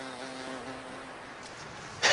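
A bee buzzes its wings at a middle C pitch to release pollen from a flower, giving a steady, moderate drone that fades slightly before a brief louder burst at the very end.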